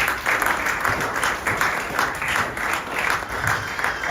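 A congregation at a Sunday church service applauding to acclaim the Lord, with steady, dense clapping from many hands filling the room throughout, swelling slightly in waves.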